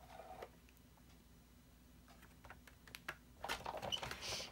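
Powder pink cardstock with a die centered on it being run through a die cutting machine: a low steady grinding hum with faint scattered ticks, building into a louder, rougher crunching pass near the end.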